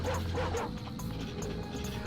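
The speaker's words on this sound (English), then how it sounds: "I hear dogs. They're down there." Dogs barking and yipping in the Ratchet & Clank video game, a brief dense burst of several yaps over game background noise, fairly close and steady in loudness.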